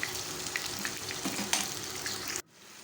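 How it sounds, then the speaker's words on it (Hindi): Kebabs fry in oil until light brown, making a steady close sizzle with a few small pops. The sound cuts off abruptly near the end into quiet. "सारी साइड से अच्छी तरह उसको थोड़ा लाइट ब्राउन होने तक फ्राई कीजिए"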